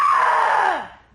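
A person lets out one loud, close, sustained scream of pent-up anger that slides downward and fades after about a second.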